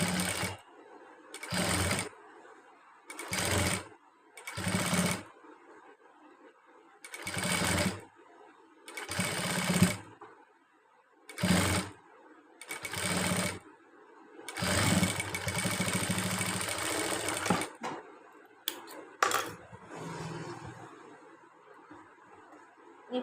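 A sewing machine stitches a nighty frock in a series of short bursts, about a dozen stop-start runs separated by silent pauses, with one longer run in the middle, all close and clear.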